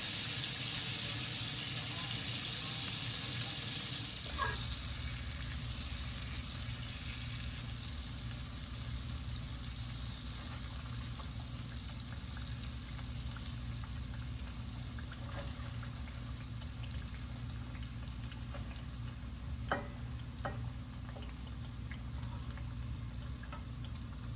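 Steaks and fried potatoes cook in an iron skillet indoors, giving a steady, even sizzle that continues throughout, with a few faint clicks and knocks over it.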